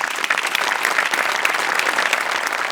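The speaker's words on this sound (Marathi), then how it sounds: "जोरदार टाळ्या" A studio audience breaks into loud, dense applause that carries on steadily at close range.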